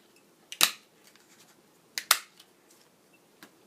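Sharp crisp clicks of a craft punch cutting small four-petal paper flowers, two main punches about a second and a half apart with a fainter click later, close up and alone.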